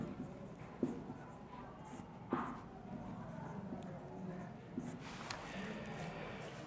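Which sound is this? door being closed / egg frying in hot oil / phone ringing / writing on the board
writing on the board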